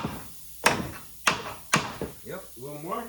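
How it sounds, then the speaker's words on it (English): Claw hammer striking a ball joint bolt on a GM truck's suspension control arm, with three sharp, close, metallic blows followed by someone talking. "Maybe we can get in there with a claw hammer a little more."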